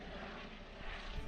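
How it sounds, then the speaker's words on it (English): A helicopter passes overhead above the Norfolk coast, heard as a steady, broad rotor and engine rumble that holds at a constant, moderate distance throughout, with no talk. "I saw a chopper above"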